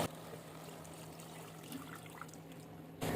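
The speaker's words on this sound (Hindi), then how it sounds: "अब जो गोश्त की यखमी थी वो हम ऐड कर देंगे।" Meat stock (yakhni) poured into browned, cooking mutton for aloo gosht, a steady soft watery pour and sizzle lasting about three seconds, close and moderately quiet with no talk.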